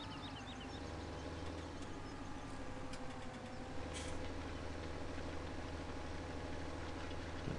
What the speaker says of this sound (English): I do like this little JCB fast track. It is quite a funky little tractor.